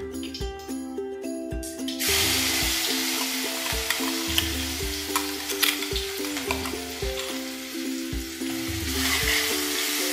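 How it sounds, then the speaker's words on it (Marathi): Ground green chili hits hot oil with cumin for a dry potato sabzi: after a brief quiet start, a bright, crackling sizzle swells up and carries on, dotted with regular clicks and scrapes of stirring. "आता जिरं चांगलं फुलून आले, त्यामध्ये आता आपण वाटलेली हिरवी मिरची टाकून घेऊया।"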